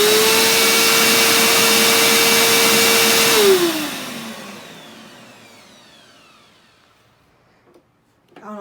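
A Bissell Power Groom vacuum cleaner motor runs with a loud, steady whine and roar, then switches off and winds down to quiet, with a soft knock at the end.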